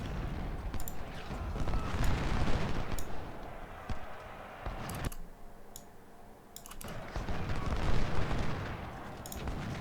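Musket volleys fire into a Civil War melee in Ultimate General: Civil War, with dense, crackling gunfire and booming artillery that swell and ebb, sharp shots cutting through the ongoing din.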